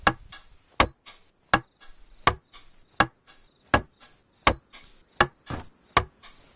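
In the DayZ video game, a hammer strikes while a lower wooden wall is built, with about ten sharp, evenly spaced knocks roughly a second apart over a steady background drone of crickets.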